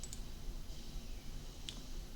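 A computer mouse clicks on a website link, giving two or three quiet, sharp clicks spaced apart over a faint background hiss.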